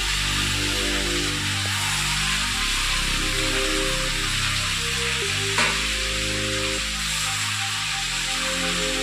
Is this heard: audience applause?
no